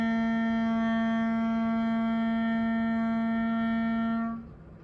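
A clarinet holds a single steady note C for about four seconds, clear and close, then cuts off into quiet room tone.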